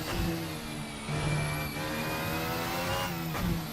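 A Formula Hybrid 2017 single-seater in rFactor 2 holds a steady, buzzing engine note under partial throttle through a long corner, with small surges in pitch as the throttle is balanced.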